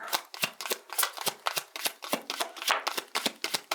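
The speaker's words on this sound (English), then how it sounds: "Let me pull some tarot cards." Tarot cards being shuffled by hand, a rapid run of crisp riffling flicks in a steady rhythm, close and fairly soft with no talking.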